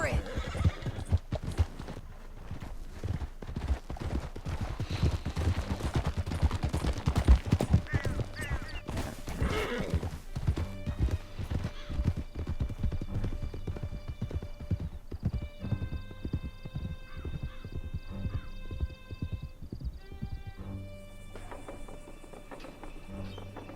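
Horses gallop across a canyon in the Western video game Red Dead Redemption 2, their hooves drumming in a fast, steady rhythm with an occasional whinny, while voices speak faintly underneath.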